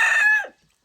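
A rooster gives one loud, close crow on a farm among chickens, a bright harmonic call that lasts just under half a second and then drops away into silence.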